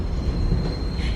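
Train running on rails at night, a steady low rumble with a faint high whine held throughout, close and continuous with no talking.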